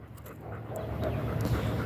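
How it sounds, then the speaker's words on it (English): Mixed-breed dog resembling a Belgian Shepherd panting close by, a steady rapid breathy rhythm that grows slightly louder, with no talk over it. "He's a mixed dog, but looks like a Belgian Shepherd, isn't it?"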